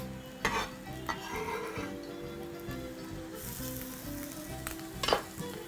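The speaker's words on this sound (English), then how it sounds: "we will begin our cooking process by adding our ginger" Ginger sizzles in hot oil in a pan, a steady close crackling hiss with occasional clinks and stirring knocks from a utensil against the pan.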